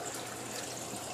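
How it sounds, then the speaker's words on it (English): Water trickles steadily into a homemade breeding box hung in a fish tank, a soft continuous splashing that is quiet and close. "see how I got that drip thing going in there?"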